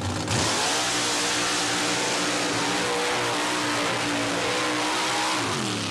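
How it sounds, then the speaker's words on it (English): A mud-racing Jeep called the Predator, powered by a 355 cubic inch Chevrolet engine, roars at full throttle through a mud pit, a loud sustained engine howl rising in pitch and holding for several seconds. "Jeep called the Predator. It is powered by a 355 cubic inch Chevrolet"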